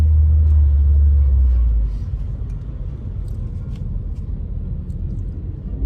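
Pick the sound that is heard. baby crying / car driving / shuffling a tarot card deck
car driving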